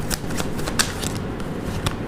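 Tarot cards being shuffled and drawn during a reading, giving a run of soft, steady papery riffles with a few sharper flicks, close and fairly quiet, with no voice over it.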